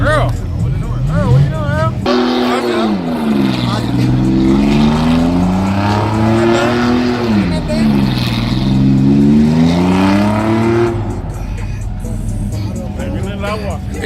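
A truck engine revs hard while spinning donuts at a Trucks N Coffee meetup, with a loud, sustained roar whose pitch rises and falls as the truck circles. People talk nearby throughout.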